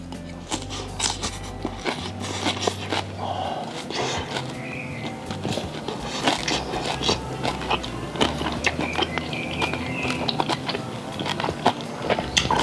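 Crispy-skinned fried fish, firm and pompano-like, is bitten and chewed up close, with steady crunching and crackling running through a dozen seconds over faint background noise and a brief low hum near the start.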